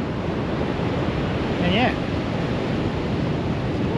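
Ocean surf and gusting wind on a beach along the Great Ocean Road roar as a steady broadband rush, buffeting the microphone, while someone speaks briefly over it.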